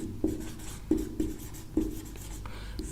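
Marker strokes on a board during a chemistry lesson, several short scratchy bursts at irregular intervals, close and fairly quiet.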